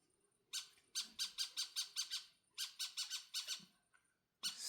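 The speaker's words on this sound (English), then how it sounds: "Crazy bird at late night. Singing, I guess, singing or whatever he's doing." A bird calls loudly and close by late at night, a rapid series of harsh, squawking notes in two bursts of about six to seven calls each, followed by a further call at the end.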